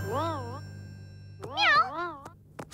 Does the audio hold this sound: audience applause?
no